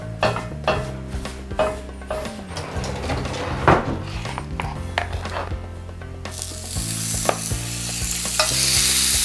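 Lamb chops sizzle on oiled grill grates, a steady frying hiss broken by scraping and clinking of tongs and utensils against the grate, with a louder burst of sizzle near the end.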